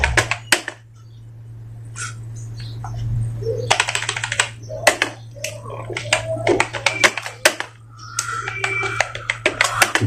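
Hindi text is being typed on a computer keyboard, with irregular runs of sharp key clicks and clacks, close and loud over a steady low electrical hum, with a brief louder thump partway through.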